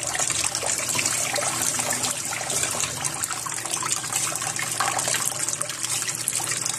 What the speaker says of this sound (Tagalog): Hugasan muna natin siya.